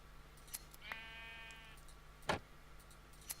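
A sheep bleats once in the game Minecraft, a short wavering cry that is fairly faint, with a few soft clicks and taps around it.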